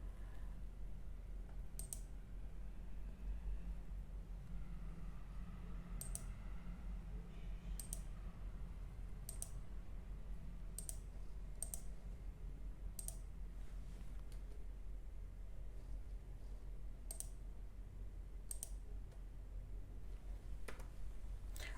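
Sharp, isolated mouse clicks in an Excel spreadsheet, about a dozen crisp ticks spaced irregularly every one to two seconds over a quiet low hum, with no talking.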